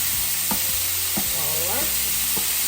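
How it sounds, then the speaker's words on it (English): Beef and onions sizzle loudly on a hot griddle for a hoagie while a spatula chops through them with several sharp metallic clacks and a short scraping sweep. "just keep chopping away and incorporate the onions"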